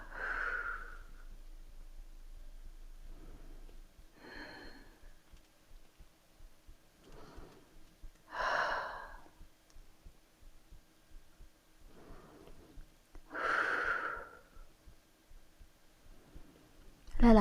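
Slow yoga breathing in a quiet room, soft inhales and exhales repeating every few seconds, faint and close, with gentle speech in between.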